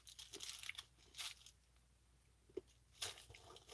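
Nerds Rope candy, a soft gummy rope coated in tiny crunchy Nerds, being bitten and chewed close up: a few short, crisp crunches and wet squishes separated by quiet pauses.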